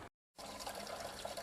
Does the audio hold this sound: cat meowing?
no